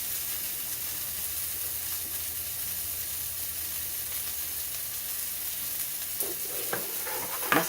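Flat-iron steaks sizzle steadily in a hot pan, a dense continuous frying hiss with a few soft clinks near the end and no talking.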